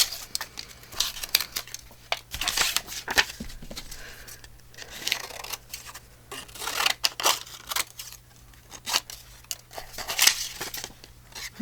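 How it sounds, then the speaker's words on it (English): Scissors snip a ripped edge off a paper scrap, making quick repeated crisp cuts and rustling paper crinkles close by, with soft handling noise between the snips. "so let me cut that weird rip off"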